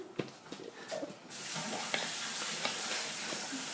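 Cookie dough being mixed in a bowl, with a few scraping stirs that give way to a steady, dense churning noise that continues to the end.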